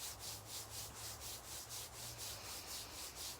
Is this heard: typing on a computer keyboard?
no